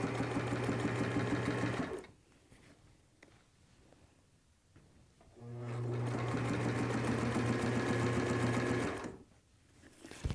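A sewing machine stitches a fabric cap in two sustained runs, its steady motor hum and rapid needle rhythm broken by a quieter gap of a few seconds with faint handling noise between them.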